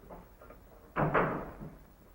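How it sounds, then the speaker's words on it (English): A door swings shut with a single firm thud close by, set against a quiet room with a faint murmur just before it. "Shut the door, please."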